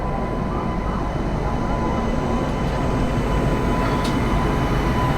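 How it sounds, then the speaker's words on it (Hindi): A goods train rolls past with a loud, steady, unbroken rumble and rattle that fills the whole stretch without easing. "ये कोई गुड्स ट्रेन है।"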